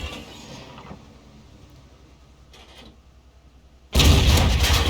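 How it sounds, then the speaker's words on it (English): A tank cannon in World of Tanks, an SU-152 firing HEAT rounds: quiet mechanical rumble with a faint distant report midway, then one loud, sharp, close gunshot boom near the end that rings on. "He's firing the heat rounds now."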